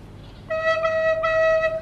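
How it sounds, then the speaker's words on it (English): A recorder sounds a single normal E note, one clean, steady tone that begins about half a second in and holds to the end. It is fairly loud and played alone, with no talking. "So a normal E sounds like this."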